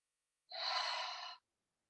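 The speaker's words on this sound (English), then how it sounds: "inhaling in through the nose as much as possible. Exhale from the throat." Single breath during a meditation exercise, drawn in through the nose and released from the throat, one soft airy rush lasting under a second, close and quiet, with silence before and after.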